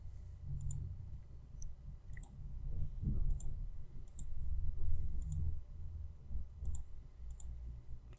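Mouse clicks while retouching acne in Photoshop, sharp faint ticks recurring every second or so, at times doubled, over a low steady hum with no talking.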